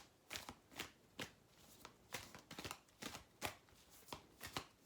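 Oracle cards are shuffled by hand in quick repeated riffles and slaps, a brisk irregular rhythm of crisp papery bursts, close and quiet with no talking.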